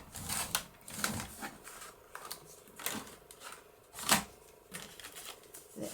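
Layered paper cardstock being cut down to size with a paper trimmer: a series of sharp slicing swishes and clicks at uneven intervals, close and fairly crisp, with no talk.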